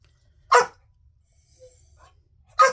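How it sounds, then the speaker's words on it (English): A dog indoors gives two sharp, loud barks about two seconds apart, with near silence between them. "Bad dog."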